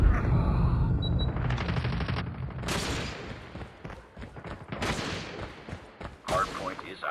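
An automated sentry gun fires in the video game Call of Duty Mobile, a fast volley of shots mixed with other gunfire and explosions in a hectic firefight, loud at first and then trailing into scattered bursts.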